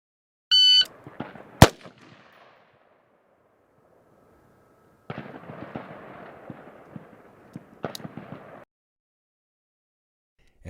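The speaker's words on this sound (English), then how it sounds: "On command, shooters will fire 1 round in the head scoring area in 2 seconds." Sharp single M4 rifle shots crack at an Army firing range, a few spaced reports with quiet gaps and low background rumble between them, no voices.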